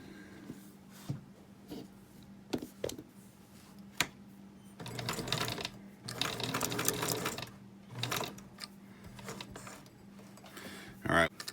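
Sewing machine stitching along a fabric edge to bind it in, running in bursts of steady mechanical whirring with a long run in the middle, separated by pauses, clicks and light handling noises, with a faint background hum.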